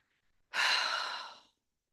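One long, deep, audible breath out during a guided meditation, close and alone, rising suddenly and fading after about a second, with silence on either side.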